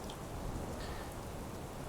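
Steady rain hisses in a dense, even wash of drops, soft and continuous with no other sounds standing out.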